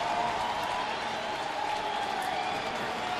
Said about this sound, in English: He gets a nice ovation from the crowd.